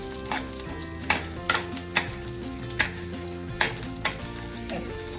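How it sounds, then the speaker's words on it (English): Tadka spices with crushed garlic, mustard seeds, cumin, chana dal, urad dal and curry leaves sizzle and crackle steadily in hot oil, with repeated sharp pops and spatters rising over the continuous frying hiss. "If you fry it, then you need to add crushed garlic."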